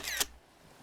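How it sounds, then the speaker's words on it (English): A digital camera shutter fires once, a brief mechanical whir ending in a sharp click, close up and followed by quiet. "I force an awkward smile just as he clicks the shutter"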